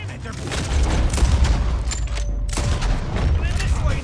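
Sustained gunfire from a Red Dead Redemption 2 shootout, with dense rolling shots and booms layered over a low rumble, loud and continuous throughout. A voice speaks over part of it.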